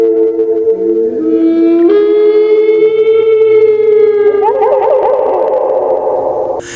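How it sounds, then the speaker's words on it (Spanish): A deep, drawn-out wailing lament from a horror story, a loud rising and sustained tone with ringing harmonics that holds steady for several seconds and then wavers and breaks up near the end, with no talking. "un sonido rasgó la calma de la noche. Un lamento profundo y prolongado se filtró entre los vientos"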